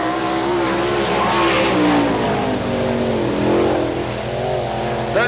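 A sprint car on a qualifying lap at an All Star Circuit of Champions Winternationals race in Gibsonton, Florida, its engine roaring loud and close with pitch rising and falling through the corners, a public-address voice faintly underneath.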